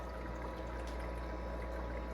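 A Cowsar countertop ice maker draws water up with a faint, steady trickling flow over a low pump hum, heard alone and quiet.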